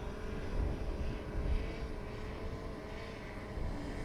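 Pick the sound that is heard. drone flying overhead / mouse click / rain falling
drone flying overhead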